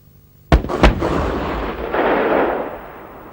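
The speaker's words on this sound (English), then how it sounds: "First was an AT-4 Heat, fired at a reinforced APC with an armor protection of 38 millimeters HB 300 at a firing range of 70 meters." An AT-4 HEAT anti-tank round fires at 70 meters into a reinforced APC with 38 mm armor, giving a sharp loud blast, a second impact crack a moment later, then a rolling rumble that swells and slowly fades.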